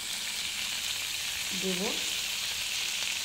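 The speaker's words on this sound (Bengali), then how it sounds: "এই যে চিকেন পিসগুলো ফ্রাই করছি" Chicken pieces frying in hot oil for chilli chicken, a steady dense sizzle throughout with a brief spoken word near the middle.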